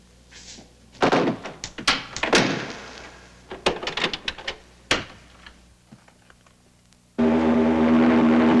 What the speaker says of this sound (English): Griggs, close the front door and lock it.